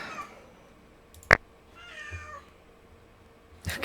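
A pet cat meows softly at close range in a quiet room, with one short wavering meow in the middle between a sharp click and a brief noisy rustle at the end.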